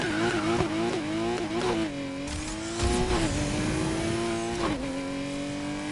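Loud flat-12 engine in a video game car revving hard, pitch climbing and dropping through repeated gear shifts with a tire-squeal edge, dominating the sound with no talk.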